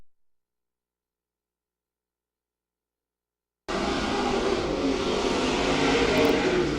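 Race cars roaring around the turns of a dirt oval during a heat race, a dense, loud engine drone that cuts in abruptly after a stretch of silence and holds steady to the end.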